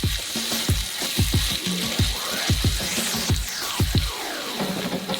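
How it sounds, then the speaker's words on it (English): Egg noodles being tossed with sauce in a hot wok, a steady sizzle and wet sloshing broken by repeated thuds and scrapes of stirring, close and continuous with no talk. "And now we add the egg noodles and mix it for the last time."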